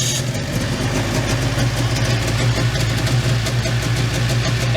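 A Lynx Cobra 500 snowmobile engine idles slightly high, a steady loud close-up rumble with an even two-stroke throb and no talking over it.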